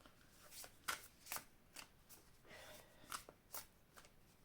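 Oracle cards are shuffled by hand in a quiet room, giving soft repeated riffles and flutters in short bursts about every half second, close and faint with no talking.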